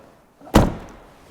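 A Land Rover Defender, converted to electric power by Twisted, has its door swung shut in one solid slam with a short thud and brief decay, close and loud against a quiet background.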